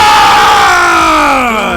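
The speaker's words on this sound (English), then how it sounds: "everybody already starts going nuts during the crowd" A loud arena crowd roars and cheers in a sustained wall of noise, with yells and whoops blending together and slowly easing off.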